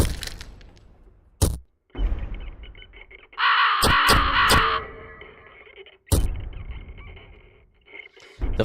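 Crows from the horror game Fear & Hunger caw in loud harsh bursts, a dense flock clamour in the middle over a rough ambient drone, with sharp cracking hits breaking in between.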